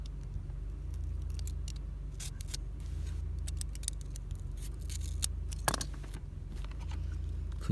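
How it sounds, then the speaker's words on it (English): Scissors cut a strip of material into small pieces while installing interior LED lights in a Honda Fit. The snips come as short, crisp bursts over a steady low hum, with one louder cut partway through. "cut it into small pieces"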